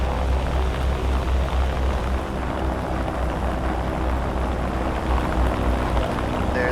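Droning engines of a B-29 bomber in flight in War Thunder, a dense, steady roar that holds evenly with no pauses and no voices.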